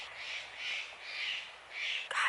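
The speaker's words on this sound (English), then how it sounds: "I should not be mad at that crow" A crow cawing outdoors, four drawn-out harsh calls in a slow, even rhythm, fairly close and loud, with a brief sharp knock near the end.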